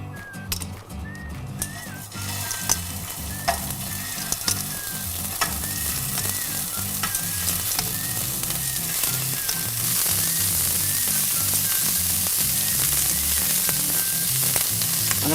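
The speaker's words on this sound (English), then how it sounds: "So we're going to take these over to the cooker and start cooking them off." Rabbit meatballs fry in olive oil in a pan on the cooker, a steady dense sizzle with scraping stirs and clinks, growing louder and hissier toward the end.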